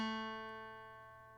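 A single guitar note on the G string fretted at the second fret, plucked once and left ringing with a clean, gradual fade, close up and alone.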